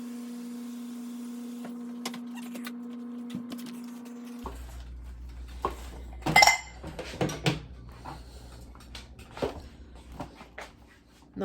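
Pots and pans clatter and clink in a home kitchen during cooking, scattered metallic knocks and rattles with one sharper clang midway, moderately close over a low background hum, no talk.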